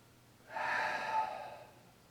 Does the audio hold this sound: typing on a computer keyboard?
no